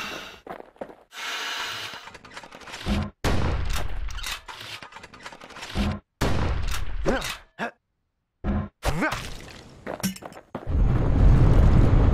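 Gunfire in the video game Bastion: loud, sharp blasts and impacts come in bursts across the scene, broken by brief silent gaps, with a dense rumbling crash closing the stretch.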